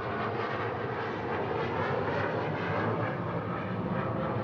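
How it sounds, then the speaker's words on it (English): A low-flying airplane roars steadily over a stadium near an airport, its broad engine rumble filling the air at constant loudness throughout. "we get the planes because the airport is right over here, and they come right down low over the stadium"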